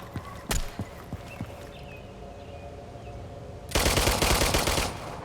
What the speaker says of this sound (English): That's 2 different players shooting each other.